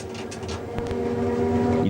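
A train running on the Udine–Tarvisio line after passing through a diverging switch, a steady rumble with a low hum and one sharp wheel clack, heard from inside the cab with no talking.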